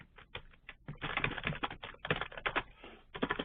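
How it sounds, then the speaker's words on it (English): Someone types an answer on a computer keyboard, producing quiet irregular bursts of soft clicking keystrokes, close and alone with no talking. "let's say I'm typing my answer"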